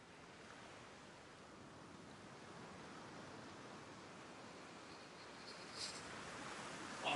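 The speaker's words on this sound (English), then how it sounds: "The ocean." Ocean surf in a video game rolls as a steady, soft wash of broadband noise, distant and unbroken, with no talking.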